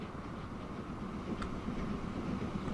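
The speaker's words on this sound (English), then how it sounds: "There's mail being delivered by another London South Western Railways train." A London South Western Railways train in Transport Fever 2 runs with a steady, close rumble and rail clatter that holds at an even level throughout, with no voices over it.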